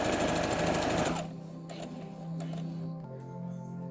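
A sewing machine runs fast while hemming a shirt sleeve, a dense rapid whir that stops abruptly after about a second, leaving quieter low hum and faint handling sounds.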